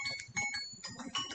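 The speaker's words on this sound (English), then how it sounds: "Oh, jeez, that's my phone" A mobile phone ringtone plays a bright, chiming electronic melody in short repeated phrases, fairly close and clear, with a voice partly overlapping.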